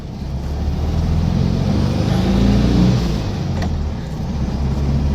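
A Volkswagen Beetle drives along steadily, a continuous low engine drone swelling slightly mid-run as the car moves through a gear change, heard close from inside the cabin with no talking.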